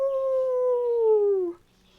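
A human voice imitates a wolf howl in one sustained, slowly falling tone lasting about a second and a half, close and clear, then breaks off into near silence.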